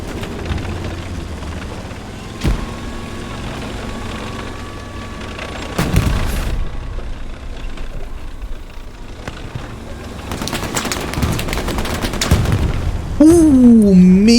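Gunfire during a competitive multiplayer shooter match on the Carentan map, with sharp shots and booming blasts scattered over a steady background of game noise, a denser burst of firing near the end.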